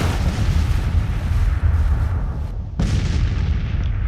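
Alabama infantry in Grand Tactician: The Civil War fire rifle volleys during the Battle of Manassas, a dense, continuous roar of gunfire and booms with no pauses, briefly thinning near the end before surging again.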